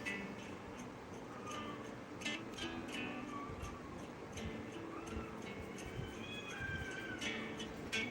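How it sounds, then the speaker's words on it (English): Cats outside a neighbor's house fight and meow, faint wavering yowls and cries rising and falling over low background noise. "I think the cats are like fighting outside in the neighbor's house"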